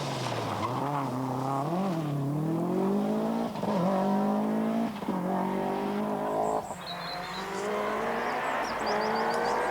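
A Toyota rally car with a troubled turbo intercooler and overheating engine drives continuously, its loud, strained engine note rising and falling through gear changes, with brief tire squeals near the end.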